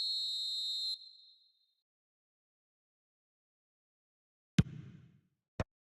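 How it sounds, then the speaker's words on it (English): A referee's whistle in the eFootball 2026 football video game gives one sharp, loud, steady blast of about a second, followed by silence and then a couple of brief thuds. "Referee looks at his watch and blows his whistle"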